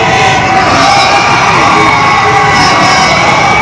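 At an open-air political rally at Hanuman Chowk in Gurdaspur, a large crowd cheers and shouts in a dense, loud, continuous roar with whoops rising from the mass of people.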